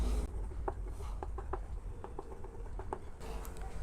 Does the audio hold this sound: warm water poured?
no